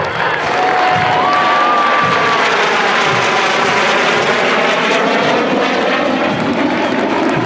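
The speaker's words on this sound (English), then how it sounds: "two T-38C Talons renders a flying salute to our graduated airmen." A pair of T-38C Talon jets roar loudly overhead in a flying salute at an Air Force basic training graduation parade, a sustained broad engine rush that swells and fades, with crowd noise beneath.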